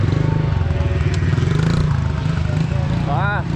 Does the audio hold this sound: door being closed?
no